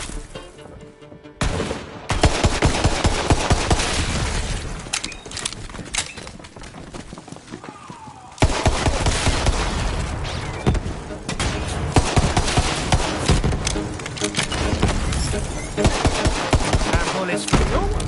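Gunfire in the video game Borderlands, dense rapid automatic bursts and shots rattling almost without pause, loud and close, with a brief lull before the firing resumes at full intensity.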